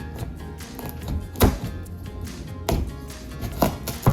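A knife cuts into a very large, still somewhat tough spaghetti squash, giving a few dull thunks and taps that are spread out, close and fairly loud.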